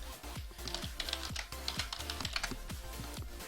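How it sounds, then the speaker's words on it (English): Rapid, uneven clatter of keys on a computer keyboard, close and fairly soft, with a steady run of individual keystrokes and brief pauses, no voices. "I'll type it."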